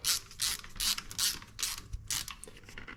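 A ratchet wrench tightens bolts on a 2003 Yamaha Big Bear ATV, clicking in bursts of quick, close, crisp ratcheting strokes separated by short pauses.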